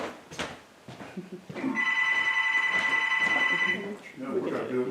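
A telephone rings with a sustained, tonal electronic trill lasting about two seconds, with a voice talking faintly around it.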